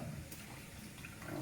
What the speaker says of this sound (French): Donc, je vais bien vider l'eau.